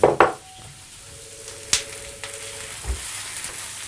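Lardons for a tartiflette hit a hot pan with a brief loud sizzle and clatter, then fry quietly with faint crackling and a few utensil knocks against the pan.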